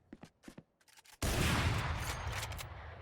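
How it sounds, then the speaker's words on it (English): Gunfire in Valorant: a few short sharp shots at first, then a sudden, loud, sustained roar of impacts and firing that holds steady to the end, close and dense. "Going for the wall bang. Nice follow-up shot."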